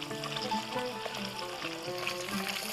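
Calf liver frying in a pan, a steady close sizzle with crackling spatter running throughout, no voices.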